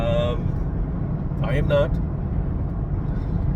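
Steady road noise from inside a car driving home, a constant low engine and tire rumble throughout with someone speaking briefly over it.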